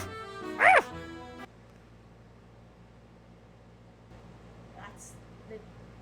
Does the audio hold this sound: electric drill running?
no